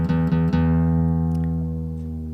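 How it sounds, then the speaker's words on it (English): A guitar's low E string is plucked three times in a quick row and left ringing, a deep, sustained tone that slowly fades as it is dropped toward D. "we're going to drop your E string"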